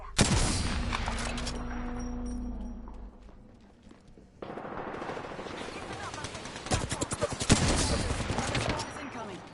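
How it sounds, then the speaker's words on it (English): Rapid automatic gunfire from the video game Apex Legends rattles in dense sustained bursts, loud and close, with a pause before the firing resumes and intensifies. "Shots incoming."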